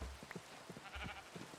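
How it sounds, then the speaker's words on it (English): In the Minecraft video game, a sheep bleats several times in short, quiet calls over a faint soft background hiss, with no voices. "Oh no, the baby sheep was stuck in there."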